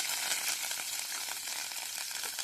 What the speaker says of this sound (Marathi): कढीपत्ता चांगला तळलेला आहे.